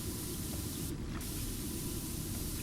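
Pressure washer spray in PowerWash Simulator, a loud, continuous broadband hiss of water jet held steadily throughout without voices.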